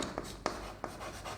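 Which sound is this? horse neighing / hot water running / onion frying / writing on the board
writing on the board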